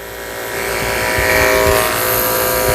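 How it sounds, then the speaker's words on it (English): Electric clippers buzz steadily while shaving around the tail base of a toy poodle, a close, loud motor hum that grows slightly as the blades press into the fur, with no talking. "Shaving around the base of his tail."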